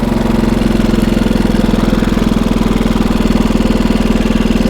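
Engine of a 1924 TT racing motorcycle, a loud, steady, fast-pulsing thump of the old single running continuously and close, with an even throbbing rhythm.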